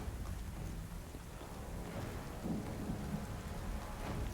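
Steady rain pours and low thunder rumbles during a storm in the video game Warhammer: Chaosbane, a dense continuous wash with no talking.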